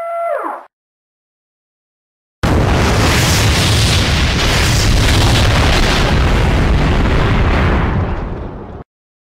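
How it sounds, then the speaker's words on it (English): A video game bomb blast, the Sonic Ray Bomb, hits as a huge, loud, sustained roaring explosion that fills several seconds after a brief synthetic tone and a moment of silence, then cuts off sharply. "Warning! Sonic Ray Bomb has been detected!"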